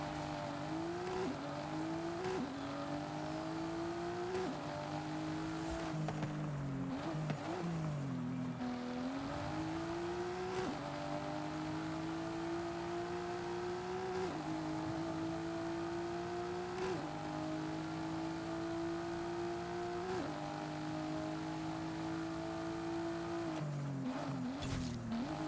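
A car with an open differential drives in the video game Forza Horizon 5, its engine droning and repeatedly revving up through gears in steady rising sweeps, loud and continuous.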